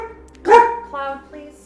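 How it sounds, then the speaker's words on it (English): A single pet dog gives one sharp bark up close, followed by a shorter, softer vocal sound, heard alone in a quiet room. "My dog is telling me no more."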